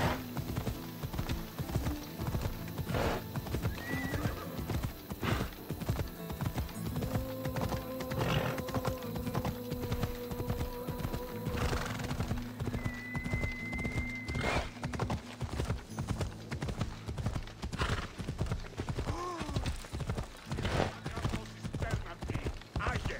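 Steady rhythmic hoofbeats of a galloping horse in Assassin's Creed Odyssey run throughout, with occasional whinnies and neighs over game ambience, loud and close.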